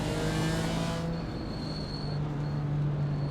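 GT4 race car engines at Spa in the iRacing sim: a steady, loud engine drone with a sustained low tone and a high whine, continuous throughout with no speech.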